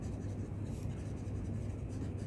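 Pen writing a maths solution by hand on paper, a quiet continuous scratching and rubbing that runs steadily throughout, close up over a faint low hum with no talking.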